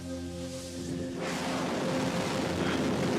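A Rocket Lab rocket ignites at liftoff, a sudden broad roar that swells and keeps building after a quieter humming start, with no talk.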